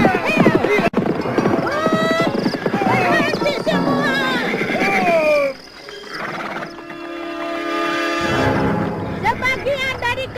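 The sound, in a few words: horses galloping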